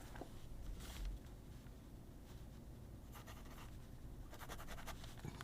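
A Wingsung 601A fountain pen with a modified nib scratches faintly across paper in short strokes, quiet and close, with a few louder scratchy bursts.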